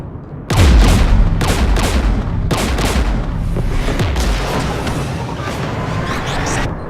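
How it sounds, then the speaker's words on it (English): Gunfire in the video game Mass Effect 3 during a firefight near a Geth jamming tower: loud, dense bursts of shots and heavy booms that carry on continuously, with no talk. "We're taking fire."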